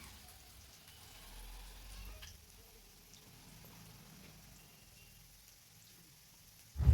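Chopped onion frying in a spoonful or two of oil in a pan while cooking Gobi Manchurian, a faint, steady sizzle that swells slightly near the start, with no talking.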